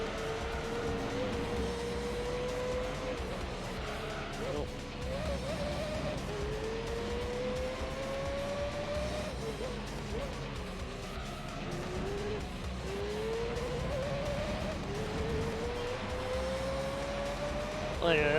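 A Le Mans prototype race car in Gran Turismo 3 whines through repeated rising gear pulls with shifts between them and occasional tire squeal, steady and moderately loud under intermittent talk.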